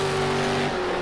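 A V8 Supercar in a racing video game at Sonoma, its engine holding a loud, steady tonal drone through a fast corner, close and continuous with no talk.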